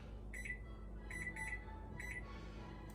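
A kitchen timer beeping while English muffins cook, with short, bright electronic beeps in small groups over a steady low hum, at moderate volume.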